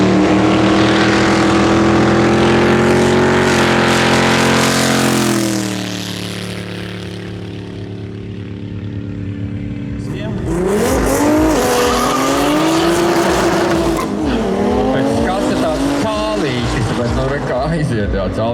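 Drag racing cars, among them a Seat, a BMW and an Audi, roar down a Baltic drag strip with loud rising and falling engine revs and a sustained harmonic whine, a brief lull midway, and a commentator talking over the noise throughout.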